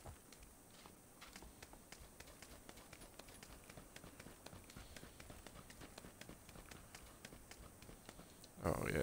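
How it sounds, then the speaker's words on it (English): Running footsteps in the video game PUBG on Xbox One sound as a fast, steady patter of light thuds that continues throughout, faint under low background noise, ending in a sudden louder burst. "footsteps definitely are a lot louder"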